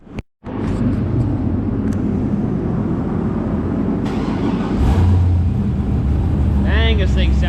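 A tuned car engine runs loud and close with a deep steady rumble, surging slightly midway, with a brief whine near the end.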